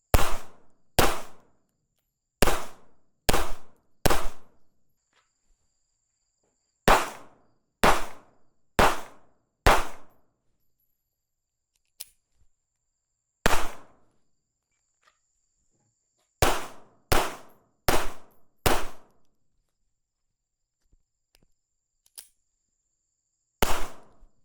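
A .380 ACP pistol fires sharp, loud gunshots in quick strings while shooting an IDPA classifier, with groups of four to five shots separated by pauses and faint insect chirps in between.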